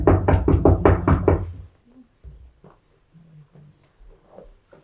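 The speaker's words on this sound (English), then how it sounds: "You knock the door, youth." A run of six or seven loud, close knocks on a door in a quick even rhythm, followed by a quieter stretch of faint shuffling and small sounds.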